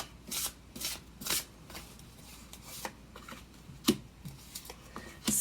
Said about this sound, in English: I shuffle real slow so you see everything I'm doing.